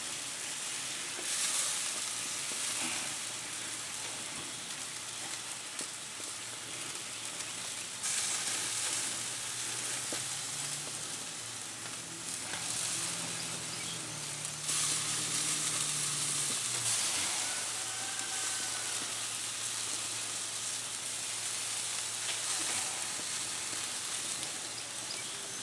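Pork blade steaks coated in sweet, sticky sauce sizzle steadily on a grill, a dense continuous hiss and crackle at moderate loudness with no voices over it.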